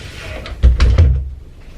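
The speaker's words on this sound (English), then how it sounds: "I probably need to close the door all the way." A pantry door with an over-the-door organizer is pushed shut indoors, giving a few close, heavy thumps and rattles in quick succession.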